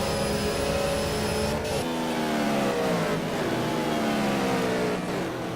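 GT race car engines in the Simraceway racing game, a GT2 race at Silverstone, rev hard and accelerate with steady, loud, rising engine tones. Several cars are heard together, and one shifts gear partway through.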